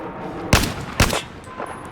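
Two loud, sharp rifle shots are fired half a second apart at targets in the video game Battlefield 4, each followed by a short reverberant tail.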